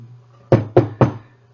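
Three firm knocks on a hotel room door, evenly spaced and close, over a low steady hum.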